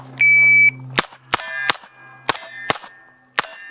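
A Smith & Wesson 617 revolver fires a string of sharp, loud shots, about six evenly spaced cracks each with a ringing metallic tail, after a steady electronic start beep.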